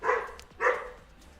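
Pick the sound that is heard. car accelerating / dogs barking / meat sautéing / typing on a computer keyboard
dogs barking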